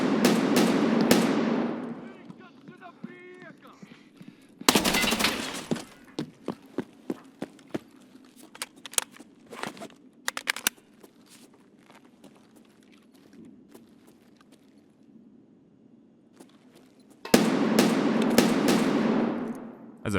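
Bursts of automatic gunfire in Escape from Tarkov, loud rapid rattles at the start and end with scattered single shots and distant pops between, over a quiet ambient bed.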